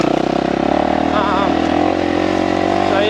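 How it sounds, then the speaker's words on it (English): 2020 Kawasaki KX450 dirt bike ridden around a farm, engine droning loud and steady with slight pitch wavers, with a voice talking over it. "22 hours, 2020, KX450, one owner. I'm just riding around the farm"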